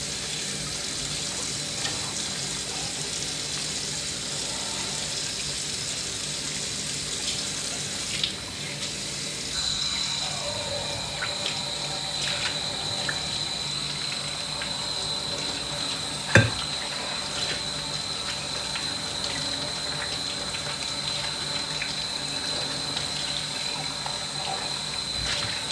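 Tap water runs steadily into a sink for a long stretch, a constant hiss at moderate level with a few small clinks and one sharp knock partway through; no one speaks.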